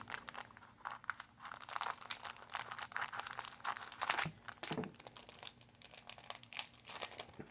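Crinkling and crunching of a 1981 Topps baseball card rack pack wrapper being cut open, with steady close rustling and a couple of sharper crackles partway through.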